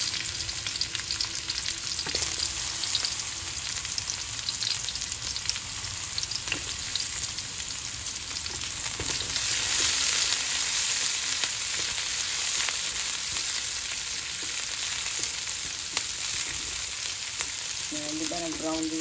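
Chopped garlic sizzles steadily in hot oil in a pan while cooking ginisang upo with vegetables, a dense continuous frying hiss that runs throughout, with faint stirring.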